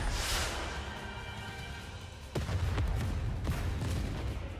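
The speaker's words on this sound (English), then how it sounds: "Final flame explosion!" Rocket launcher blasts in the video game NIKKE: a sustained, dense roar of explosions with heavy low rumble, then sharper booming impacts at irregular intervals, loud and close throughout.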